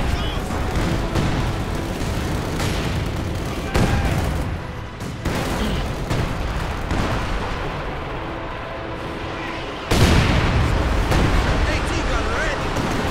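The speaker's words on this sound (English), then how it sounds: "Field guns firing" Field guns and artillery keep firing through a Company of Heroes 2 battle: a dense, continuous barrage of booms and blasts with no let-up, punctuated by sharper heavy impacts.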